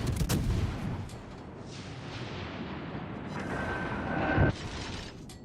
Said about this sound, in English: He's going to take a broadside salvo from our battleship here very shortly